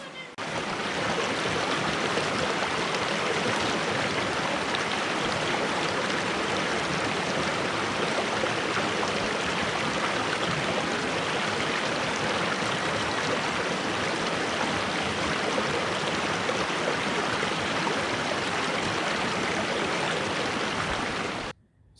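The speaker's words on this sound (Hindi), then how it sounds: "तो भाई साहब ये है दूधी नदी" Flowing water of the Dudhi river in Patalkot, a dense, constant rushing hiss that holds steady throughout and cuts off abruptly at the end, with no voices.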